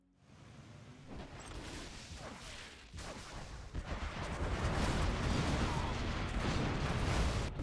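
A Scud missile launch in the strategy game Command & Conquer Generals Zero Hour builds into a heavy, roaring rumble of fire and blasts that grows louder and sustains to the end.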